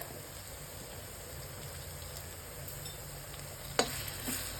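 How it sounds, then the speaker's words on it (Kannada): Ginger garlic paste sizzles steadily in a hot pan for prawns masala, a soft even frying hiss with a brief stirring scrape near the end. "ಸ್ವಲ್ಪ ಶುಂಠಿ ಬೆಳ್ಳುಳ್ಳಿ ಪೇಸ್ಟ್ ಹಾಕ್ಕೊಳ್ಳಿ."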